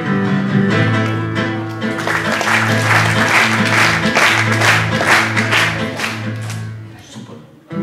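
A live concert crowd claps together in a steady, dense burst of applause, loud and close throughout, with sustained musical tones underneath and a brief lull near the end.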